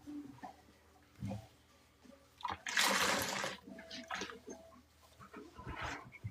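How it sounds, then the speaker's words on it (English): Rinse water splashing over a sponge soaked with Ajax cleanser during sponge squeezing, several bursts of sloshing and dribbling with one long loud gush in the middle, no talking. "She said she wanted a little water with her 5 cans of Ajax"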